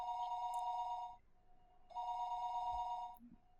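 A telephone bell rings in two long bursts with a short pause between, heard alone at moderate volume with no talk.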